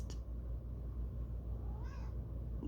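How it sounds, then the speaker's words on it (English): A single short meow from a house cat indoors, faint and brief near the end, over a steady low electrical hum and room noise. "He let the cat in here"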